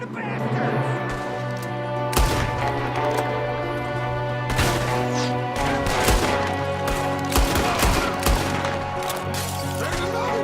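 In Red Dead Redemption 2, a firefight crackles with repeated sharp gunshots, some fired from a window, in irregular bursts over a sustained musical score, loud and close with no talk.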